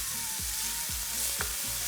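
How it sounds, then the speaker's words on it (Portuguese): Chopped onion with a pinch of salt sizzles steadily in oil in a frying pan, a constant close hiss broken by several scraping stirs of a spoon across the pan. "Tem que refogar aqui por 2 minutinhos até ela murchar."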